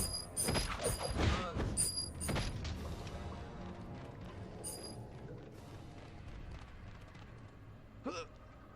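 Gear mechanism grinding open a passage in the Shrek 2 video game, a loud clattering, rumbling mechanical burst at the start that fades into a steady low rumble, with a brief creak near the end.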